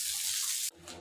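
Brief hiss of clean water rinsing a scraped exterior wall with peeling orange paint, strong spray that cuts off abruptly into a softer trickle.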